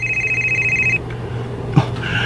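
A cellphone rings loudly and close with a steady electronic tone that cuts off partway through, followed by a short clunk.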